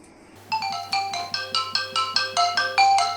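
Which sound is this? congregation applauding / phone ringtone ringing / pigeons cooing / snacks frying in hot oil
phone ringtone ringing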